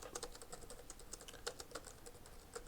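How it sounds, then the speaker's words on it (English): Someone types code on a computer keyboard while building a JavaScript recon tool in Golang: quick, irregular clusters of soft, close key clicks with brief pauses between bursts. "As I just type in this bit of code here"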